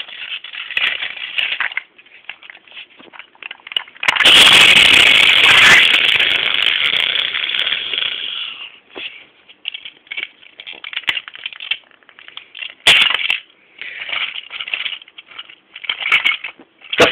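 Henry and Duncan crash with the slate trucks, a harsh grinding, clattering roar of wreckage that swells to a sustained loud crunch, then breaks into scattered rattles and sharp bangs.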